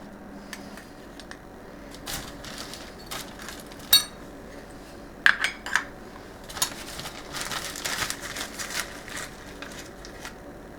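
Ground coffee is spooned into a pot, with light metallic clinks and scraping taps scattered irregularly, close and fairly quiet with no talking.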